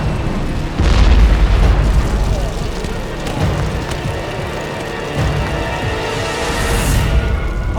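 A cache of fireworks at a market goes off in a chain reaction, with deep booms and bursts rolling one after another, a heavy blast near the start and further pops and rumbles following, over a crackling background.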